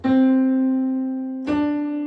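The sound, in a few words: musical note C played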